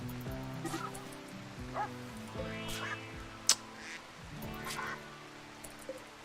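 Duck sounds in the video game Rimworld: repeated honking, nasal quacks spaced through the clip over a steady tonal game background, with a sharp brief click partway through.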